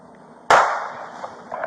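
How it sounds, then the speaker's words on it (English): A juvenile male fires a single gunshot during a shootout with sheriff's deputies in Volusia County. The crack is sharp and loud, trailing into a brief decaying echo over faint background noise. "Stand by, shots fired at me again."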